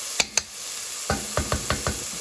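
Salt pork browning in a pot while being stirred: a few sharp scraping clacks early on, then a steady rhythm of about five spoon knocks against the pot over a faint background sizzle, close and moderate.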